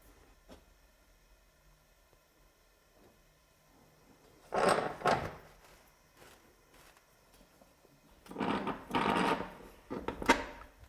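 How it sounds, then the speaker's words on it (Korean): The door of a pottery kiln is swung shut, with two separate clusters of scraping, knocking metal and brick sounds standing out clearly against a quiet background. "지금 이제 불을 다리고 문을 닫아 보겠습니다."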